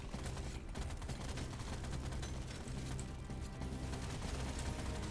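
Dense gunfire fills the Deep Rock Galactic: Survivor video game, with rapid shots blurring into a continuous fusillade of booms and mechanical clatter. It stays fairly quiet and unbroken the whole time.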